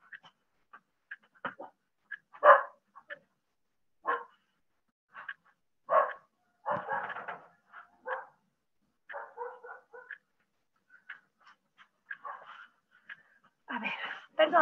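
A female dog at home barks in short, sharp bursts mixed with whimpers and yips, fairly close and irregular across the stretch, with no talk over it.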